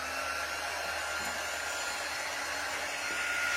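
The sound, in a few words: drying chalk designs with a dryer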